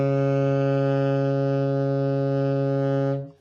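A saxophone sustains its lowest note, low B flat, as one steady, loud, buzzy tone for about three seconds, played alone, before it stops abruptly.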